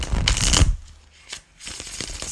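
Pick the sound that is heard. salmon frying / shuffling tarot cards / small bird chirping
shuffling tarot cards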